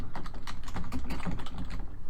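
Rapid typing on a computer keyboard while building an automated workflow, a steady close patter of quick key clicks with no one talking.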